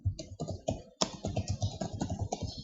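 Rapid typing on a computer keyboard, a dense run of close, crisp key clicks with a brief pause near the middle before the tapping resumes, with no voices.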